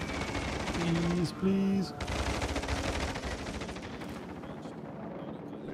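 Naval gunfire in the World of Warships: Legends game, with heavy booming blasts and rapid shot bursts running under steady battle noise while a voice briefly speaks.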